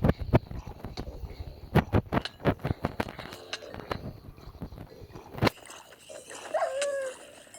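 A pet dog in the Minecraft video game gives short yelps and a drawn-out whimper near the end, mixed with rapid clicking combat hits and game effects.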